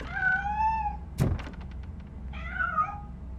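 A cat meows twice, clear and close, with a sharp thunk like a door or knock striking between the two calls.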